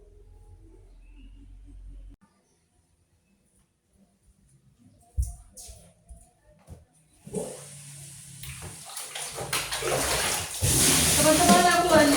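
Clothes being washed by hand in water at home, sloshing and splashing that builds from sparse handling into steady, close, continuous water noise.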